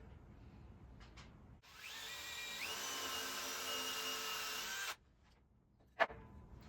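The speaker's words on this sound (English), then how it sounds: "Drills the hole, it chamfers it out. It only goes so deep." A power drill bores a chamfered screw hole, a steady loud whine with a rising pitch lasting about three seconds, then stopping, followed by a single sharp knock.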